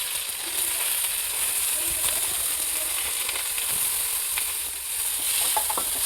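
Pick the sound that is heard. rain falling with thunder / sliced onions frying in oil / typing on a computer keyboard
sliced onions frying in oil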